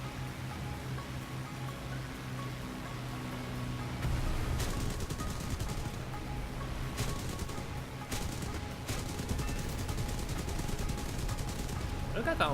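Bursts of gunfire from aircraft and ground units in the combat flight game War Thunder, with rapid repeated shots in clusters around mid-clip over a steady background rumble, and a voice talking throughout.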